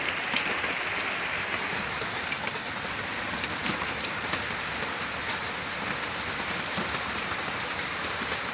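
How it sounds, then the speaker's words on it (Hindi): Steady rain falls outdoors in a village, a dense, even hiss of drops on surfaces with a few sharper patters, continuous and moderately loud with no talking. "वर्षा टे छाड़ी पुणी आरंभ होगा देखो"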